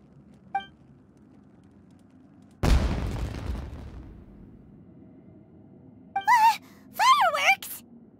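A sudden loud fireworks blast in the Genshin Impact video game, one heavy boom that rumbles and fades over about a second, set among quiet ambience with short character gasps and exclamations afterward.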